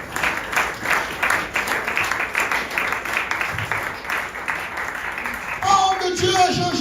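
A church congregation at a Sunday service claps and applauds steadily for several seconds, with crowd noise mixed in and voices rising near the end.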